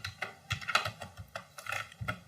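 Typing on a computer keyboard while entering field names into an Excel spreadsheet, a steady run of close, crisp key clicks in uneven bursts with no talk.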